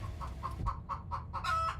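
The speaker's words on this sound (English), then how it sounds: "He's making chicken noises." A chicken clucks in a quick series of short, bright calls over a low background rumble, building to a louder, stretched squawk at the end, close by and free of talk.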